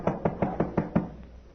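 Five evenly spaced, firm knocks on a door, close and clear, followed by a brief pause and one faint sixth tap, with no talk over them.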